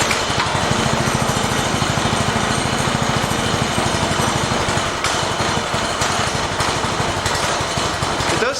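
A small mini bike engine catches and runs steadily, a loud, rapid, buzzing putter that goes on without a break throughout.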